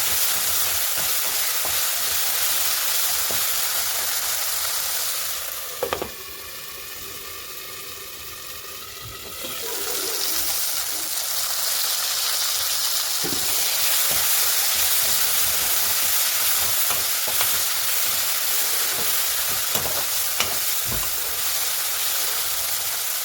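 Fish curry cooks in a pan with a steady loud sizzle and hiss, broken by scraping stirs and clinks, with a brief quieter moment as the lid or pan shifts.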